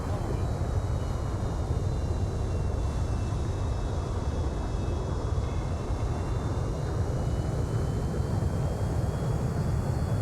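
Bomber aircraft in the naval combat game Sea Power, a continuous loud engine roar with a steady low rumble and faint high whine, holding even throughout with no speech over it.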